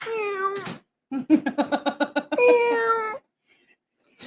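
A pet cat named Sebastian meows clearly several times close by, drawn-out cries separated by short pauses and a burst of rapid chirpy calls, with no talking over them.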